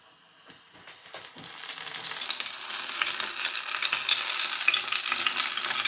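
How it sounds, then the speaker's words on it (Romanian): Battered enoki mushrooms drop into hot oil for tempura, a few soft taps giving way to a loud, steadily swelling crackling sizzle that fills the rest of the frying. "Trebuie doar să trăseți ciupercile prin aluat și să le frigiți în ulei"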